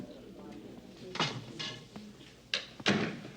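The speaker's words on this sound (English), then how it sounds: "just close that door for me" A door pulled shut in a quiet room, heard as a few short knocks and clicks, the last pair sharpest, among soft rustling and faint background voices.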